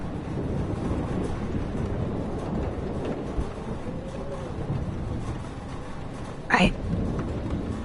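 Thunderstorm in the game Life is Strange, a steady roar of rain and rumbling wind with a sharp crack partway through, heard alone without voices.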